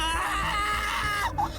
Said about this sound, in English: let out the shrill scream of my life